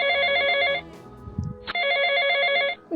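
Mobile phone ringing with an incoming call, an electronic ringtone in two long bursts separated by a short gap, clear and close with no talking.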